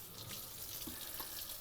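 Tap water running steadily into a kitchen sink while a sheet pan is rinsed, a constant hissing splash with faint clinks, close and unbroken.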